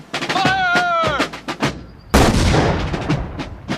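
Troops fire a rifle volley salute at a ceremony: a sharp loud crack of simultaneous shots breaks out after a shouted command, ringing into an echoing decay, with voices just before.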